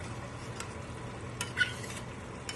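Boiled vegetables stirred into oily pav bhaji gravy in a pan, giving a soft continuous sizzle with a few scraping spoon strokes, moderately close and quiet, with no talking.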